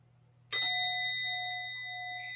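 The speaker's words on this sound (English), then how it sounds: "When you're ready, you can ring the gong again." A mindfulness gong is struck once, its bright ringing tone sustaining and slowly fading away, with no talking.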